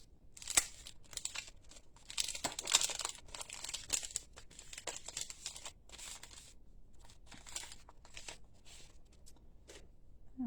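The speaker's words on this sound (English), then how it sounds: "to open a brand new package of rhinestones" A brand-new plastic package of rhinestones is torn and opened at close range, giving a run of crinkling, crackling and rustling bursts over about ten seconds, fairly quiet, with no talking.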